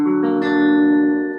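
A guitar chord rings out, played with the index finger barring the G and high E strings. One struck chord sustains with clear tones and fades slightly toward the end, with no talking.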